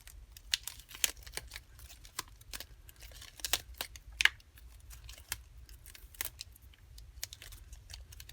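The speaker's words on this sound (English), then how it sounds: "don't crumple up your vinyl like this" A vinyl sheet being crumpled by hand, giving faint, close crinkles and sharp scattered clicks over a low background hum, with no voices.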